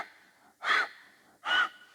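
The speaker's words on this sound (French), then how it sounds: "Continuer, respiration du feu," Two loud, sharp, forceful nasal breaths of Bhastrika breath-of-fire yoga breathing, close up and evenly spaced in a quick rhythm, with soft breathing between them.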